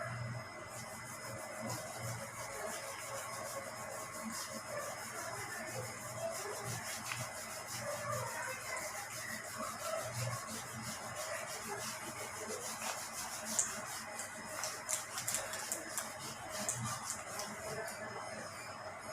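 A whiteboard or blackboard is rubbed to clear writing after a class 9 maths lesson, giving a steady, continuous scrubbing and rasping with no pauses and no one speaking.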